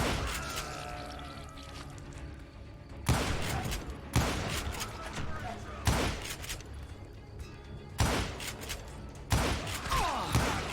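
Gunfire from the Western shooter game Call of Juarez: Gunslinger: a dense, continuous barrage of shots with heavier booming blasts every second or two, loud and sustained over a busy background.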